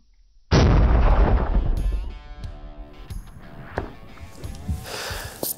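A single loud rifle shot fired at a gridded target while checking a scope on a mule deer hunt on the Navajo Nation, followed by a long rolling echo and faint clicks and shuffling.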